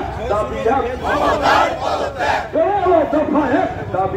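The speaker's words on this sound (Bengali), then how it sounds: "বিক্ষোভে ফেটে পড়ে বিজেপি নেতাকর্মীরা" A crowd of BJP workers shouting in protest against police at Reyapara, Nandigram, loud overlapping chanting voices rising and falling in a sustained roar.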